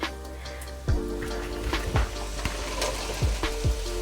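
Fresh spinach going into a hot pan for a vegan spinach dip, with steady sizzling and frying plus scattered soft thumps and scrapes of leaves being pushed around, close and moderately loud, no voices.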